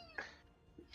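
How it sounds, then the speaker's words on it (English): A house cat lets out a short, faint meow, with a softer second call near the end, heard quietly in the background of a room. "The weird thing is that we can get like cat noises from 3 different microphones,"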